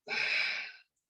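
A single deep inhaled breath during a mudra exercise, a close, breathy rush lasting under a second and then silence.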